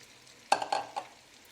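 Bell peppers cook in a pot under a quiet sizzle, with a few sharp stirring clatters from a utensil partway through, and no talking.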